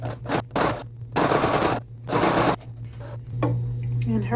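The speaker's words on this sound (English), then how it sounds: "this is my sister's sewing machine that I borrowed" A borrowed home sewing machine stitching an embroidered tie-on pocket with purple bobbin thread, running in loud mechanical bursts separated by short pauses, close and alone.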